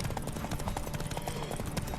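Horse hooves clip-clop at a quick galloping rhythm during a horse race in The Witcher 3 video game, steady and fairly loud over a dense game soundscape, with no talking.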